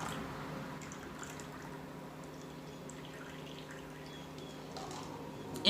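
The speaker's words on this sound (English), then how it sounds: "I'm going to get rid of some of this water here." Water is drained off a batch of soaked pea seeds, a faint steady trickle and gentle liquid pour that runs through the whole stretch, with a small rattle at the very end.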